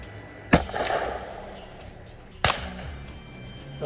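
Two sharp, loud shotgun blasts ring out about two seconds apart, each a sudden crack followed by a short decaying echo outdoors.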